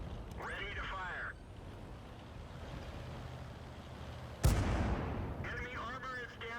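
A tank cannon in a video game fires once, a sharp, loud blast with a rumbling decay, set between stretches of a voice talking over low engine noise.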